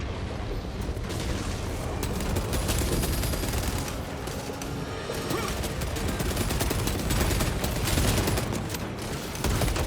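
Continuous heavy gunfire from a weapon in Warhammer 40000: Space Marine 2, loud dense bursts and booming shots with mechanical clatter running throughout.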